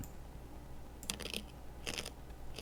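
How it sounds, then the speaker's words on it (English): Someone eating crunches food near the microphone in a few short, crisp bursts over a quiet background hum. "I apologize if you can hear my crunching"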